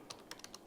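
Keys on a computer keyboard click several times in quick succession, faint and close, with no talking.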